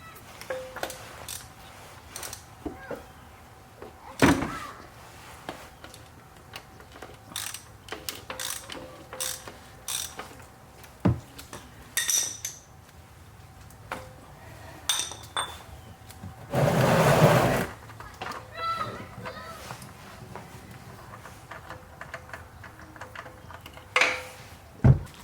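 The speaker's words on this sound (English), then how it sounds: "now we'll go ahead and get this oil filter off" An old oil filter is twisted off a Toyota Camry engine, giving a string of sparse ratcheting clicks and mechanical ticks, with one longer scraping burst midway.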